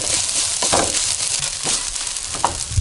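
Crab fried rice sizzles in a hot pan as oyster sauce is added, a loud, steady frying hiss broken by a few sharper stirring scrapes.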